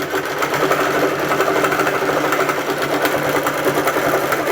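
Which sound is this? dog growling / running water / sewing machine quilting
sewing machine quilting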